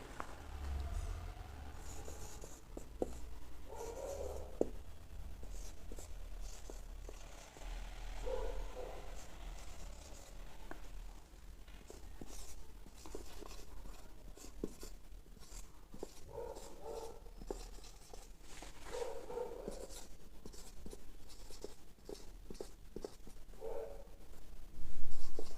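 A pen scratches on paper in short, irregular strokes during a lecture, faint and close, with pauses between bursts of writing.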